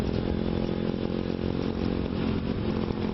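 A motorcycle rebuilt from a scrapped bike by a young man in Nagpur runs with a steady, buzzing engine drone, loud and close, holding an even pitch without pauses.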